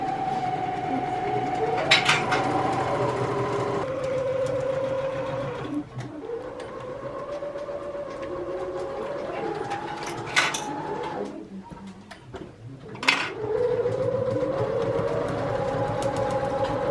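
A sewing machine stitching in a craft business workshop, a loud sustained mechanical whir that runs in long bursts with brief slowdowns and short pauses between them.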